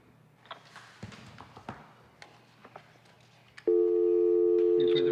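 A phone call that cannot be completed, heard over a speakerphone in a city commission meeting: scattered taps and faint room noise, then a loud, steady electronic tone that begins partway through and holds to the end.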